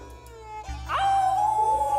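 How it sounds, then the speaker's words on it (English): A howl in a video game, rising from about the middle as a loud sustained wavering tone over a steady low background hum, following a brief soft thump. "Ika howled at the wind, letting a sharp sound resonate all over the city."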